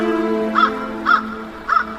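Ravens cawing in a radio drama, three evenly spaced harsh calls over a sustained tonal music bed, fairly close and clear.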